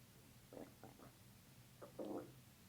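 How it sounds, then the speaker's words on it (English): A person's stomach rumbling during a chiropractic adjustment session, a few short low gurgles in quick succession followed by a longer gurgling growl, faint and close in a quiet room. "That's what it's called when your stomach rumbles."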